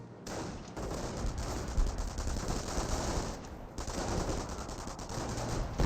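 Artillery fire and shell impacts from an M2 howitzer striking an MG42 position and Grenadier infantry in the WWII strategy game Company of Heroes, a dense continuous barrage of loud booms and crackling gunfire with no pauses.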